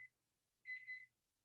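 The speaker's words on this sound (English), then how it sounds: "I hear the timer." A kitchen timer goes off while cookies bake, a short high electronic beep followed by a longer double-pulsed ring, clear and fairly close in an otherwise quiet room.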